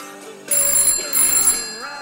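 Telephone ringing in two bursts, each about half a second long with a short gap between them. The ring is loud and close, over a quiet background.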